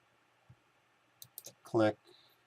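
A computer mouse clicks softly and sparsely while an edge is traced, with a few quiet isolated clicks followed by a short burst of voice.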